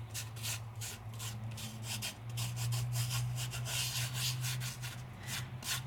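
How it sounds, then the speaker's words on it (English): A fingertip lightly rubbing loose glitter over a glued stamped paper image, a soft, steady, close scratchy rubbing in quick repeated strokes with a low hum underneath and no talking. "and I lightly rub. I move all that glitter all over."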